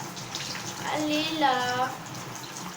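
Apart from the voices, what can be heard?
hot water running from a tap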